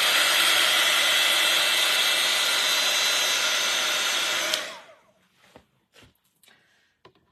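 A hair dryer blows steadily on wet paint on a scrapbooking tag, a loud whooshing hum for about four and a half seconds before switching off, then a few light clicks and handling noises.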